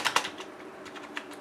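Typing on a budget non-mechanical membrane computer keyboard costing under 1.5k rupees, soft muffled key taps in a quick irregular burst at the start, then a few scattered lighter presses, close and fairly quiet.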